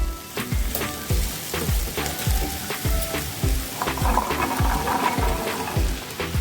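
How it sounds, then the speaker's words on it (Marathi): Chopped French beans go into a pan of partly cooked potatoes, giving a loud sizzle broken by regular rhythmic thuds and scrapes of stirring, close and steady throughout. "आता फरसबी टाकून घेऊयात आपण यामध्ये"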